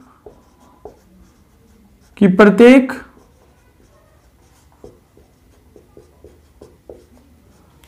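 Marker or chalk writing on a board during a Hindi algebra lesson, with scattered short taps and scratches in an irregular rhythm, close and clear, interrupted once by a brief spoken phrase.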